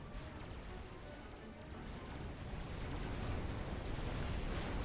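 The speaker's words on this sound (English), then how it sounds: "Subs still continuously firing." Submarines firing nonstop in a real-time strategy game, heard as a steady wash of overlapping distant booms and crunching impacts that grows louder toward the end.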